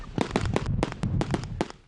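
Fireworks set off at the Hollywood Bowl by Pyro Spectacular crackle and pop in a fast irregular series of sharp bursts, about a dozen loud reports in under two seconds.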